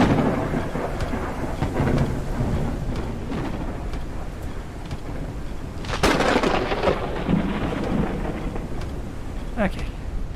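A thunderstorm in the survival game Forever Skies: continuous rain and rumbling thunder, with a sharper crack of thunder about two thirds of the way through and another brief burst near the end, loud throughout.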